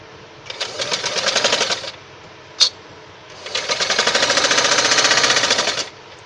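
A sewing machine stitching a belt blouse runs in two steady bursts of rapid rhythmic needle clatter, loud and close, with a brief sharp click between them as the fabric is turned.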